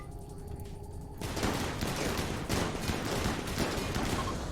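Rapid gunfire from pawns in the RimWorld video game, a dense burst of repeated shots that begins abruptly after a quiet opening and continues loud and steady to the end.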